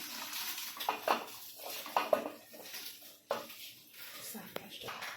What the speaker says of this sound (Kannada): ಈ ಅಕ್ಕಿನ ಹಾಕೊಂತೇನ್ರಿ